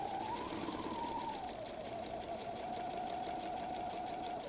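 A sewing machine stitches steadily over the bulky pleats of a messenger bag, a continuous whirring hum with a fast mechanical chatter, close and even throughout.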